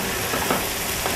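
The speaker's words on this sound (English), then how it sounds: "Because your seafood cooks very quickly." Seafood sizzles and fries in a hot pan, a loud, steady crackle that continues without pause through the short moment.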